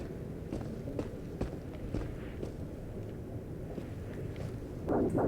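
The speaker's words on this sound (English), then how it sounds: "I can hear footsteps." Footsteps tread steadily through the terrain of the VR game Into The Radius, a regular series of soft thuds at moderate distance over a constant ambient hiss, with a brief louder rustle near the end.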